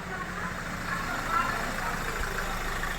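A car engine idles steadily after starting on a directly connected battery, a low continuous rumble with a broad hiss, near and even throughout, without pause.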